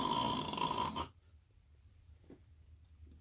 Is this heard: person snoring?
yes